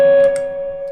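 An electric guitar left on through a lead distortion pedal gives a loud, steady electronic hum and buzz, a sustained tone with faint ticking noise over about a second.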